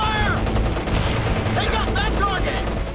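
Dense World War II combat in a game trailer: rapid machine-gun bursts and overlapping rifle fire crackle nonstop, loud and close, with shouted voices and whistling effects mixed into the battle.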